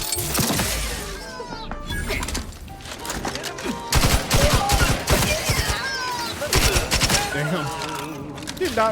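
Rapid bursts of automatic gunfire from a firefight in The Outer Worlds 2, loud and close, with repeated volleys and clattering impacts that keep going through most of the stretch, while a voice breaks in now and then.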